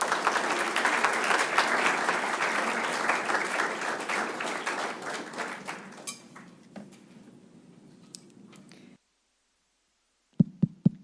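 A lecture audience at Elon welcomes speaker Dr. Missy Cummings with dense, steady clapping that tapers off after about six seconds into a few scattered claps, then silence before a brief voice.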